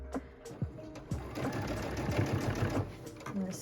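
A home sewing machine stitches a fabric glasses case, a close steady mechanical whirring with rapid needle clatter and short starts and stops, including a brief back stitch, with occasional voice and handling noises.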